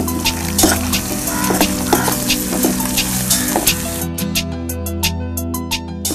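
Soaked, drained moong dal hits a hot pan for a spinach, dal and potato curry, bursting into a loud, steady sizzle with crackling pops; it keeps frying continuously and grows sharper and more spattering toward the end.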